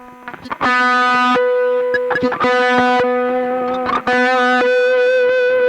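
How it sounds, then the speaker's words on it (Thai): Distorted electric guitar holding long sustained notes on the third string at the sixteenth fret, with feedback keeping the tone ringing; several loud, steady held notes with harmonic overtones, separated by brief picked attacks. "นักดนตรีสมัยก่อนชอบเล่นเทคนิค แต่ทางเสียงก็ค้างยาว มันเก็บฟีดแบ็กเราฟังมันก็เป็น ดูดูเท่ดีครับ"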